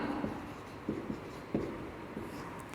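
Pen or chalk writing during a Hindi biology lesson, a series of short scratchy strokes with brief pauses between them, close and fairly quiet, with no talking.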